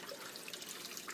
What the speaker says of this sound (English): The water sucks through, it breaks the surface of the water and creates oxygen to the whole system.